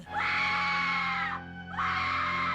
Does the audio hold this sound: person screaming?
yes